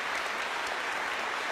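Audience applause at a head-to-head debate show, a dense, continuous wash of clapping from a crowd, steady and fairly loud throughout with no voices over it.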